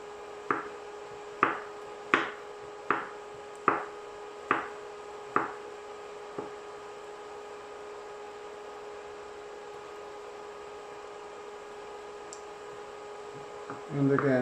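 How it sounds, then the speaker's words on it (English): Asparagus spears are cut lengthwise with a knife on a board, giving about seven crisp, evenly spaced chops that fade into quiet. "And chop them lengthwise."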